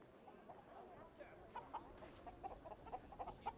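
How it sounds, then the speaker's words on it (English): A chicken clucking in the video game Indiana Jones and the Great Circle, a run of short soft clucks over quiet ambience, fairly faint with no talk. "Oh, chicken."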